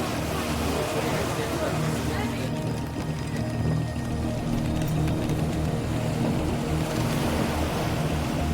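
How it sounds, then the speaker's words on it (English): A boat sailing 160 kilometers across the English Channel, with a steady rush of waves and wind against the hull, continuous and full, while a voice talks over the water noise. "We're sailing 160 kilometers across the English Channel."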